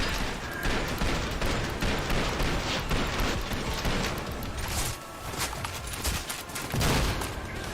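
Dense, continuous gunfire from the video game Trepang 2, a loud sustained barrage of rapid shots and impacts with only brief dips, and no talking over it.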